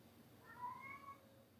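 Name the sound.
cat meowing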